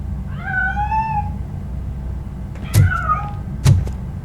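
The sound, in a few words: cat meowing in the video game RoboCop: Rogue City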